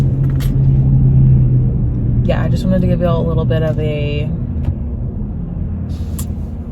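Engine rumble heard from inside a moving car, a steady low drone running throughout, with a person talking over it partway through.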